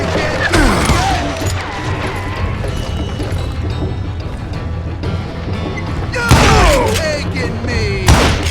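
Gunshots fire in Call of Juarez: Gunslinger, the Western shooter, with sharp loud cracks near the start and a couple more blasts toward the end over a busy game soundtrack.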